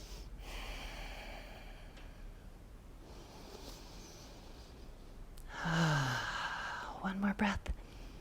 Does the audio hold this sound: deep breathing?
yes